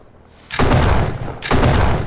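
Two heavy, booming shotgun blasts in the game Those Who Remain, each loud and reverberant with a long rumbling tail, about a second apart.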